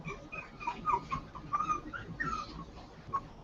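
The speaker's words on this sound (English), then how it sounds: "I got 8 Yorkie puppies running around here" Eight Yorkie puppies whimpering and yipping in a busy cluster of high, thin cries and squeaks, moderately close and continuous throughout.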